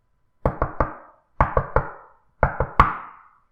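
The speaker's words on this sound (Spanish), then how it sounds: "me despertaron unos golpes en la puerta" Knocking on a door, staged as a radio drama effect: three groups of three sharp raps, near and loud, with short pauses between the groups and the final rap the strongest.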